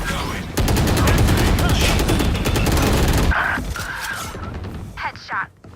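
Rapid bursts of gunfire from the Valorant video game fill the first half loudly and continuously, then thin into scattered shots and effects amid background game sounds.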